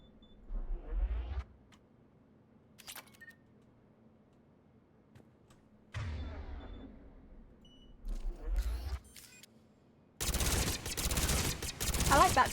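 Bursts of gunfire from the player's weapon in the video game Mass Effect 3, several rapid volleys separated by pauses, ending in a sustained loud stretch of firing.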